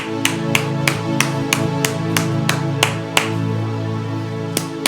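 A church congregation claps in a steady, even rhythm of sharp, loud hand claps over sustained worship music.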